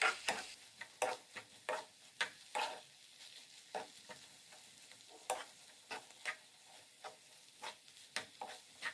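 A spoon scrapes and stirs a savory filling with chopped coriander and parsley in a hot pan, a quiet run of irregular scraping strokes close by over a faint sizzle.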